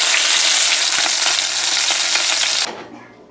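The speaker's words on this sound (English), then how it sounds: "So this is the fish all fried now." Snapper fish frying in a pan, a loud dense hiss of hot oil with faint crackles, which drops off sharply near the end.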